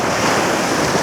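Ocean surf roars up close at the shore, a dense continuous wash of breaking waves mixed with heavy wind buffeting the microphone.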